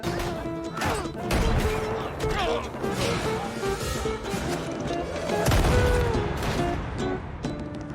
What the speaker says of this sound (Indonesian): Dia meledakkan kaca-kaca ini